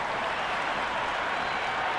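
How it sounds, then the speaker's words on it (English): A cricket stadium crowd at an India versus New Zealand T20 international roars and applauds before the first ball, a dense, steady wall of cheering with no pauses. "this crowd is already making it hard for me to be heard"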